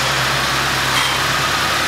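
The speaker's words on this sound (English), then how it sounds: "There's my old man outside with the tractor again." A tractor engine idles outside with a steady low rumble and a faint hum, continuous and unchanging throughout.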